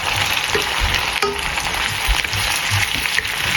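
Sautéing goto ingredients with meat in a pan: a steady, loud sizzle and frying hiss with stirring scrapes throughout, no talking.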